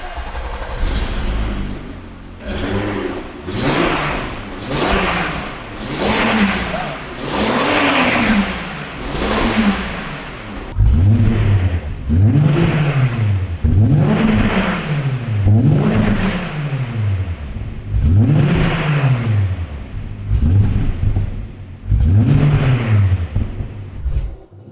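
A Volkswagen VR6 engine revved repeatedly close to the rev limiter, each blip rising and falling in a regular rhythm of about a dozen loud, near swells, with no talk over them.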